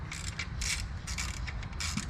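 Hand ratchet tightening a fastener on a car during a mobile mechanic job, a quick run of bright clicking strokes repeated in short bursts over a low steady background rumble, close and moderately loud.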